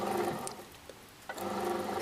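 A bread machine mixes dough with a low, grinding motor hum that rises and falls in uneven surges. It is moderately loud and close, with no talk.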